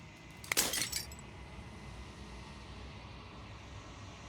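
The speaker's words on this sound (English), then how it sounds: "Final fragment of glass shatters." Glass shattering in a video game: one sharp, bright crash with tinkling shards lasting about half a second, then a low steady ambient hum with no talk.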